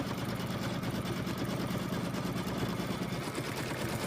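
An embroidery machine stitching around a hooped design, a steady fast mechanical needle chatter and motor hum running continuously and evenly throughout, with no talk.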